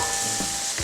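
Onion frying in a pan over slightly higher heat, a steady close hiss of sizzling oil with a couple of soft stirring scrapes.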